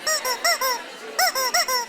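A squeaky rubber toy chicken called Charlie, squeezed repeatedly: two bursts of about four honking, squawking squeaks each, close and loud, with a short pause between the bursts.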